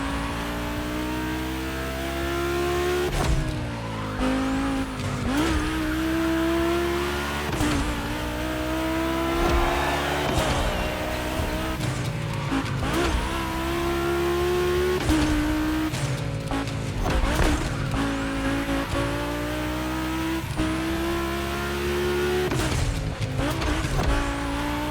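Volkswagen cars racing on a track in The Crew Motorfest, engines revving hard through repeated gear shifts and throttle lifts, with tire squeal and skids, loud and close throughout.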